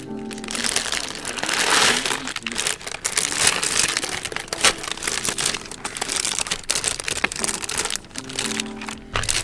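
A plastic pouch is folded over and crinkled nearby, giving dense, continuous crackling and rustling with sharp crunchy spikes throughout, loud and up close.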